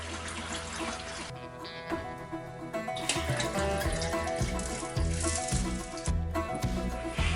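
Water draining from an aquarium tank, a loud close gushing and splashing flow with gurgling pulses, alone without talking.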